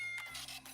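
A cat gives a single short meow in a PetSmart holiday hiring advert, brief and fairly faint.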